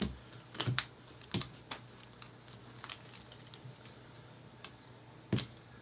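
Cards from the Lost Ruins of Arnak board game are flipped on a table, giving scattered quick snaps and light clicks, a few sharper ones among softer taps, close and without talk.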